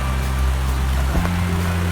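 Heavy drenching rain on a riverbank during a fishing outing, a steady broad wash of downpour with a low rumbling undertone and a brief knock partway through, no voices.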